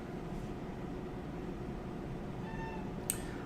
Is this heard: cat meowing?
yes